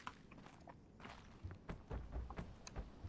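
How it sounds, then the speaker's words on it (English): Footsteps on wood in The Witness, a series of hollow thumping steps on a wooden bridge at a steady walking pace, close and moderately loud over a quiet ambient bed. "Not the bridge, but like those wood footsteps there."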